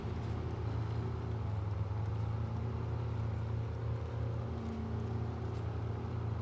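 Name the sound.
military truck engine in video game SnowRunner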